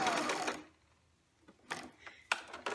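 Sewing machine stitching fabric for a Minnie Mouse pillowcase dress, a fast whirring run that stops, followed by a quiet pause and several short bursts of stitching and mechanical clicks.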